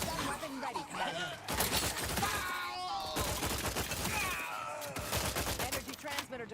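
Bursts of rapid gunfire from the video game The Outer Worlds 2 sound in clusters mixed with game music and effects, loud and dense, with brief pauses between volleys.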